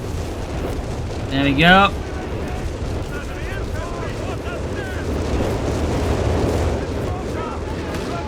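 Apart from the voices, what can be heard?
creeping artillery barrage explosions in a video game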